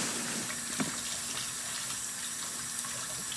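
Steady stream of tap water running over crab pieces being rinsed clean in a sink, a constant close splashing hiss with a brief clatter near the start.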